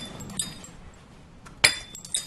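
A few sharp glassy clinks from empty glass pharmaceutical bottles, one bright knock near the middle and a lighter tap at the end, standing out briefly over a quiet, soft background.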